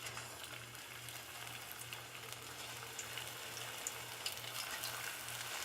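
Plantain pieces fry in oil heated to about 350 degrees, giving a steady, even crackling sizzle with scattered pops that runs the whole time, close by and with no talking.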